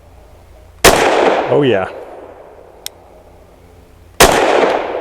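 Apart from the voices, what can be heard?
gunshots from custom Sig P320 pistol, 68 grain +P Extreme Defender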